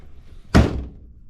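Mazda Miata door fitted with solid door bushings swinging shut in a single solid thunk, a short close slam with a quick decay and no voices around it.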